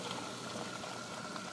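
Dense, steady fizzing and crackling of tiny bubbles popping inside an Aqua Euro nano protein skimmer, close and continuous with an even, soft hiss underneath.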